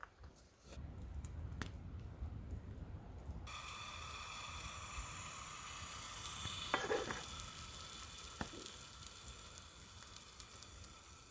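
Tortillas stacked in a hot pan fry with a steady, bright sizzle that starts after a soft slide and settles into a continuous hiss, punctuated by a couple of light clicks, close but fairly quiet.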